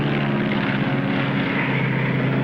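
Steady drone of a propeller airplane in slow flight, a constant loud engine hum with a buzzing tone and no talk.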